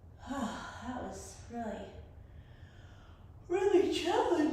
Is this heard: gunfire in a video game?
no